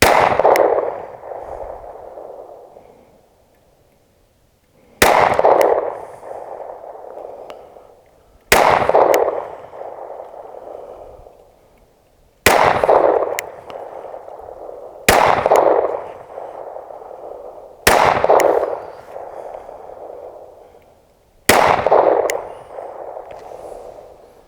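Seven sharp 9mm pistol shots firing 115 grain rounds, aimed using a Cyelee Cat X Pro red dot, come at an irregular measured pace of a few seconds apart, each loud crack trailing off in an echoing outdoor decay.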